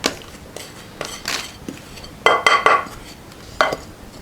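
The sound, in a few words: cake mixture tipped into a lined baking tin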